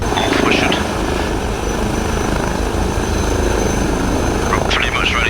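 An Airbus H160 helicopter lifts off on its first test flight, its rotor and turbine producing a loud, steady, close roar throughout, with voices talking underneath.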